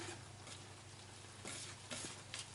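Pancake batter of flour and milk is stirred thick in a bowl, a soft continuous wet churning with faint scraping pulses, quiet and close.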